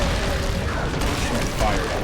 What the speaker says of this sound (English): can I like breathe fire on the rocks?